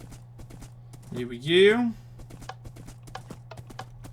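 Horse hooves clip-clop at a steady walking rhythm as the horse is ridden across Minecraft terrain, with light regular taps continuing under a short spoken remark.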